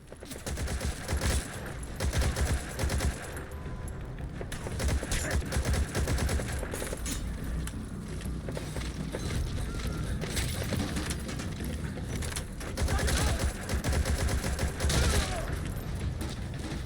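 Gunfire from a weapon in the video game Metal Gear Solid V, with dense bursts of rapid shots that rattle continuously and only briefly pause, loud and harsh throughout.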